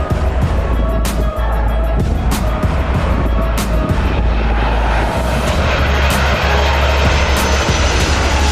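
An Airbus A380 airliner roars steadily and loudly nearby as it passes near a Los Angeles airport, a continuous heavy engine drone with deep rumble and broad hiss throughout, without any talk.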